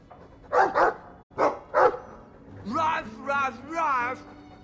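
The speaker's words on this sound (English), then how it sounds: "I like the doggy" Dog barking in the Dragon Age 2 video game, a few short barks followed by drawn-out whining, yelping calls, fairly close and clear with a low game background hum.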